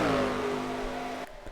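A race car engine in a racing video game at Watkins Glen, loud whining revs that fall in pitch as the car lifts off, then cut away abruptly, leaving faint background noise.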